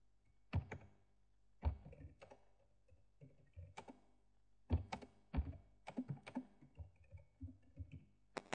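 Birthday greeting being typed on a computer keyboard: clusters of crisp, close key clicks and heavier thunks come in uneven bursts separated by short pauses, with no voices.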